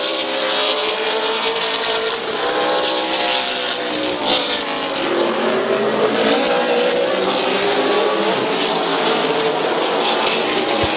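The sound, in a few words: race cars racing at Midvale Speedway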